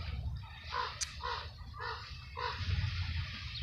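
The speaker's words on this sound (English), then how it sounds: "I think this crow is going to be very annoying" A crow caws several times in short harsh bursts, moderately distant and fairly faint against quiet outdoor background.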